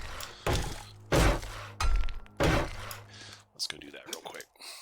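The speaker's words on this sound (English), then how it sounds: "I'll just chop down some trees here with my new fire axe" A fire axe chops trees in the 7 Days to Die video game, four sharp, loud woody impacts at an uneven steady pace, followed by softer clatter and shuffling.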